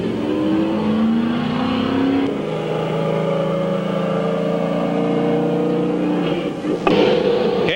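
Stock cars racing at Midvale Speedway, loud engines roaring and rising in pitch as cars pass close, overlapping revving tones, a sharp burst near the end.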